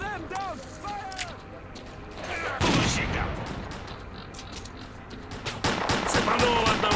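Bursts of rapid gunfire crackle through a firefight in the swamps of S.T.A.L.K.E.R.: Clear Sky, loud and close in uneven volleys, with voices shouting over the shots.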